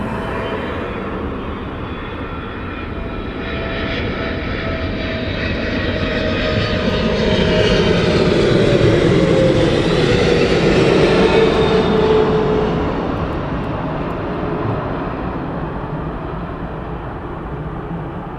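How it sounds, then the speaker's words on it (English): A Boeing 777 lands at East Midlands Airport at night, its engine roar swelling loudly to a peak mid-way, then holding as a steady broad rumble while the jet passes close and rolls out. "Seemed to be a bit of hard landing there."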